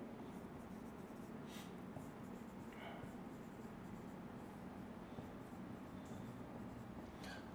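Pen or marker scratches across a board or page as chemistry examples are written out during a lecture, faint intermittent strokes over a steady hiss of room noise.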